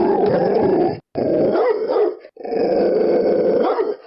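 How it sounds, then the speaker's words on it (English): A huge two-headed dog growls loud and close in a story sound effect, one continuous snarl broken by two brief pauses into three long rumbling growls. "An enormous two-headed dog came rushing at us."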